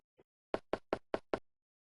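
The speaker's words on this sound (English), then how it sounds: "The only response you get is the echo of your pounding" A door is pounded in King's Quest I, the 2008 AGD Interactive remake: five loud, evenly spaced heavy knocks in a quick row, with a faint small sound just before and silence around them.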